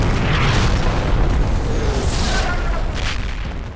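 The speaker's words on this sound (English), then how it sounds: "the village is being pounded by what has to be Monk's preparatory artillery bombardment" Artillery in the Combat Mission war game pounds a village in a preparatory bombardment, a dense, continuous roar of heavy booms and rumbling blasts that stays loud throughout, with some sharper bursts rising above it.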